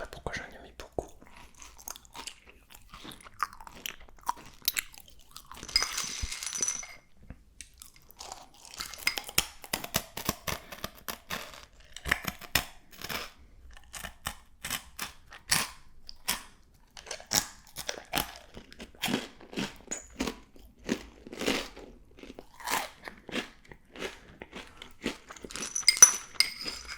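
Cat kibble being crunched and chewed up close, dense crisp crackling bites in irregular bursts with brief pauses, fairly quiet and intimate with no talking.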